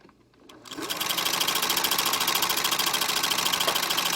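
A sewing machine winding a bobbin starts up after a couple of soft clicks and settles into a loud, steady, fast whirring drone that holds to the end.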